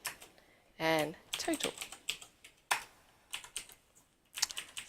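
Computer keyboard keys, including arrow keys, are struck in bursts of quick, close clicks while numbers are entered into an Excel spreadsheet, with a speaking voice heard between the runs of typing.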